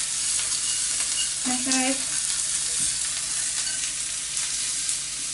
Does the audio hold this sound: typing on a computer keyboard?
no